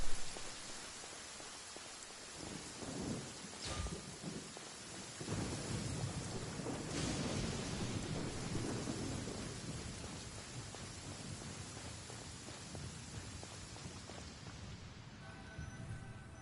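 Thunder from a lightning strike in Genshin Impact opens with a sharp crack, then heavy rain hisses steadily on surfaces with further rolling thunder, loud and close, with no talking.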